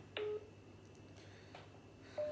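Telephone keypad tones: a few short touch-tone beeps spaced apart over a quiet room hum, close and clear, with no voices.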